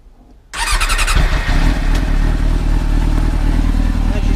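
A motorcycle engine cranks briefly after a moment of quiet, then catches and settles into a loud, steady idle close by.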